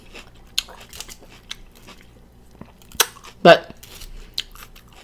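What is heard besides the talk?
eating a ribeye steak salad, chewing and crunching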